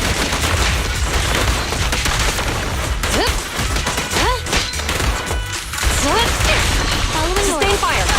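Gunfire in the action game Zenless Zone Zero: a dense, steady wall of combat noise with shots and impacts, overlaid by brief pitched voice-like and effect tones toward the end.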